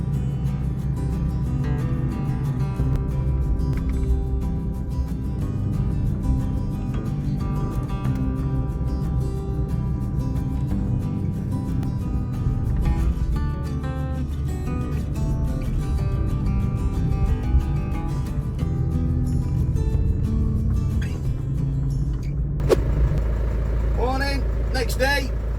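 Hay baler working a hay field, paired with a Zetor tractor, running as a steady loud mechanical drone with a continuous low engine rumble throughout and a sharper clatter near the end.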